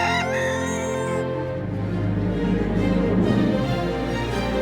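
A rooster crows loudly and close by, one long cock-a-doodle-doo with rising and falling harmonics held for several seconds, with no talk over it.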